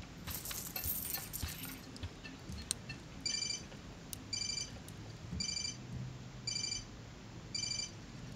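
Keys jangle in the game Life is Strange, a bright metallic clatter early on, followed by a regular series of short high ringing chimes at even intervals over faint background hum.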